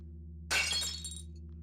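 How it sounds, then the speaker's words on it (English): A video game grapnel smashes a pane of glass near a medical bay, one sharp crash with a brief tinkling tail over a steady low electronic hum. "you need to approach and break some glass with the grapnel"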